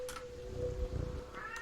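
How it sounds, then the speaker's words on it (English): A pet cat meows loudly at close range, drawn out and wavering in pitch over a faint steady hum, with one short cry at the start and another at the end. "The second I say the word cat, my cat goes nuts."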